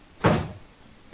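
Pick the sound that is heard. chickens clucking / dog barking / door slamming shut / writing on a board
door slamming shut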